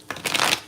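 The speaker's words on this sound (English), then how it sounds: "Let me know if you guys like the shuffle or not." Tarot cards riffle in a single quick shuffle, a short crisp flutter of paper edges close to the mic.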